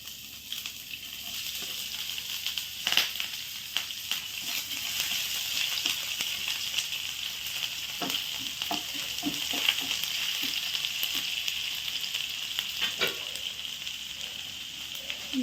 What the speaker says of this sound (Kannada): ಶುಂಠಿ ಇದನ್ನು ಫ್ರೈ ಮಾಡೋಣ.